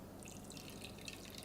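Hot water poured into a chocolate soufflé mixture: a quiet, steady trickling and dripping stream, faint and continuous through the short moment.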